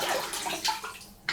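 Water runs steadily from a tap while shaving razors are washed up, a close, continuous splashing flow with slight shifts in tone and a brief surge at the end.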